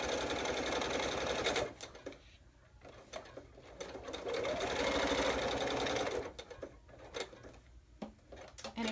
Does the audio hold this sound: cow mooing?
no